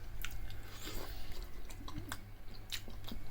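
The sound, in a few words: crunchy chewing of freshly made fries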